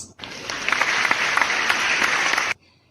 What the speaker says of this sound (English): Let us give them a big virtual applause.